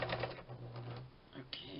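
A sewing machine runs in short bursts as it back stitches the seam of a small folding fabric bag, its rapid mechanical chatter close and fairly quiet.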